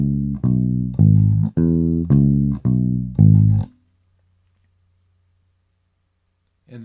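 A bass guitar plucks a short sequence of low, sustained E notes, played at the 2nd fret of the D string, in a steady rhythm, then falls silent.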